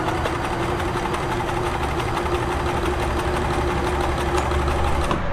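A Kenmore 1350 sewing machine runs a stretch blind hem stitch on stretch fabric. Its motor hums continuously and the needle ticks in a rapid, even mechanical rhythm from start to finish, with no talking.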